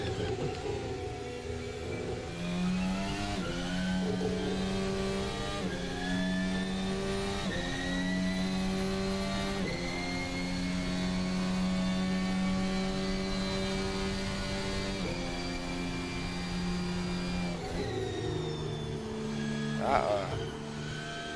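An F1 race car engine in Assetto Corsa keeps up a high, steady whine with stepwise pitch changes through the gears and a sharp drop near the end. Talk is faint underneath.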